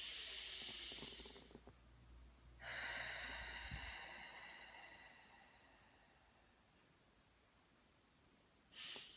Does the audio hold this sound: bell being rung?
no